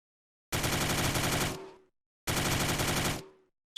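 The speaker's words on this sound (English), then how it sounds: "You hear the sort of ricochet sound, and that's because I've used a 3D sound." Two loud, close bursts of automatic gunfire in an Unreal Engine video game, each about a second long and ending in a fading ricochet tail, separated by silence.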